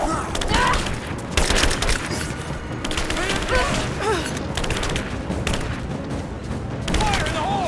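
Dense gunfire fills a firefight in the video game Rise of the Tomb Raider, loud bursts and booming shots crowding together almost without pause, with voices shouting commands over the battle.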